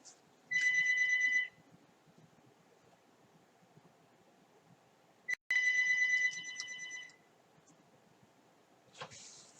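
A telephone rings in two electronic bursts, each about a second long and separated by several seconds of quiet, clear and fairly close in an otherwise still room.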